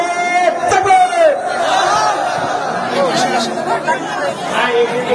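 Crowd at a Victory Day gathering of Quran lovers in Chuadanga, Bangladesh, loudly shouting in unison in answer to a takbir call, a dense chorus of raised voices with chatter around it.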